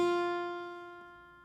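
Single guitar note fretted with the first finger on the first fret, plucked once and ringing clearly with a steady, slowly fading sustain, heard alone.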